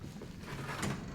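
A drawer slides open in the horror game Resident Evil 7, a short, dull scraping rumble lasting about a second and heard up close.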